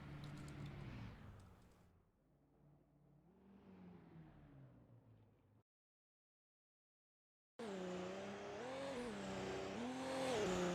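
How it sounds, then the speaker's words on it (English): Race cars sweep past with a Doppler pitch drop in a racing video game replay at Fuji, the engine whine rising and falling across two passes split by a short silence, loud and alone. "Nice Doppler effect."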